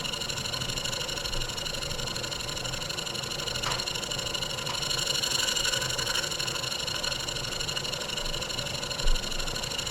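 A German showman's steam engine runs steadily and drives a generator, giving a continuous mechanical drone with a faint rhythmic churn throughout, close and even, with one brief thump near the end.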